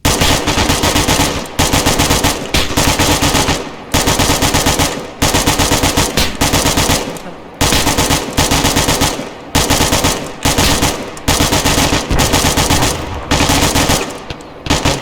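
A squad opens heavy automatic gunfire on enemies along the coast in the video game Resurgent Honour: loud, close, continuous bursts repeating in rhythmic waves with short gaps between them.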